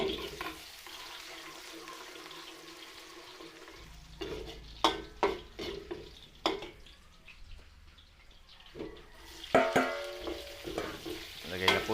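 Garlic sautés in oil in a wok, the first step of a large batch of Filipino chop suey for a fiesta: a soft, continuous sizzle broken by sharp metallic scrapes and clanks of the spatula, with no talking.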